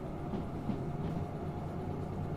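A train rolls down a grade in the railway simulator Derail Valley, a steady low rumble of wheels and cars with faint rhythmic clatter, even and moderately quiet throughout, no voices.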